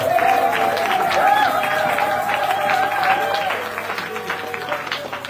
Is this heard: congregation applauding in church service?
yes